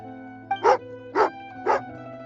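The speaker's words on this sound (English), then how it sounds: "Oh, angry doggy." Three loud, close barks spaced about half a second apart from Tagarin, an angry dog in Genshin Impact, over a steady low background hum.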